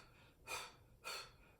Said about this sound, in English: So we're doing Buddha belly breathing